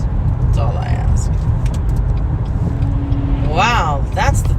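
Steady low road rumble from inside a moving vehicle on a mountain grade as a truck drives ahead, continuous and loud, with people talking over it.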